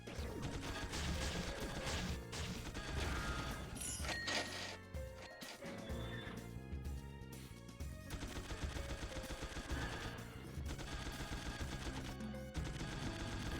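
Rapid machine gun fire in a video game, dense bursts of loud gunshots with crashes and impacts, continuous with brief lulls.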